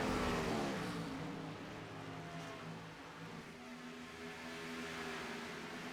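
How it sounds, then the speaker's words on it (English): A race car engine roars steadily as it pulls out of the pits at Las Vegas Motor Speedway, loud and sustained with a droning, slightly shifting pitch that starts strongest and holds throughout, with no talk over it. "Get a roar from the engine there of Mark Pentecoff as he was coming out of the pits"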